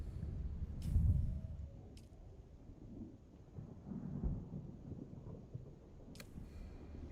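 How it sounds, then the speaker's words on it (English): A storm builds in Dune: Awakening with low rumbling gusts and deep thunder-like swells, plus a few faint sharp crackles. It stays fairly quiet and distant, with no voices. "Is there a storm coming?"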